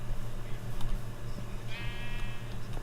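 Sheep in Minecraft bleat in short wavering calls over a steady background hum, with one clear bleat standing out near the end.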